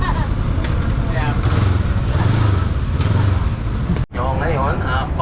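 A Honda X-ADV adventure scooter rumbles steadily up close while being ridden, its engine drone continuous with a brief cut near the end and voices talking over it.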